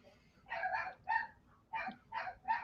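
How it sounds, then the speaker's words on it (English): A dog barks in a run of five short, sharp woofs spaced unevenly, fairly close and clear against a quiet room. "They only bark when you go on air, man."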